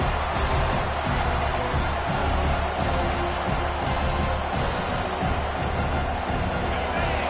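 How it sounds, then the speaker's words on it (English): Steady crowd roar from a stadium in an American football video game, late in the first half of a tight game with the defense pinning the offense deep, a dense continuous wash of noise with no clear speech on top. "The roar of the crowd trying to fuel this defense to keep them pinned in their own end."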